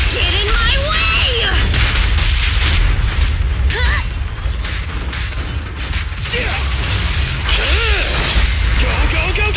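Heavy booming blasts and rumbling explosions in a Zenless Zone Zero fight, loud and continuous, with voices calling out over the din.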